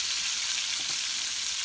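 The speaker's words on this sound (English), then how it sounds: "the grease pops very badly, so you need to be careful about that" Meatballs frying in a pan, a dense, continuous sizzle of hot grease with tiny crackling pops throughout, close and fairly loud.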